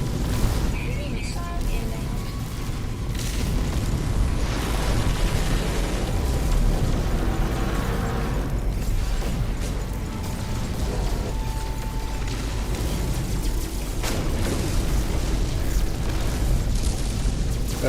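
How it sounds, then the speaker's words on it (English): A civilian freighter blowing up in No Man's Sky: a long, dense, continuous roar of booming explosions and rumbling debris, loud throughout, with no talking over it. "civilian freighter destroyed"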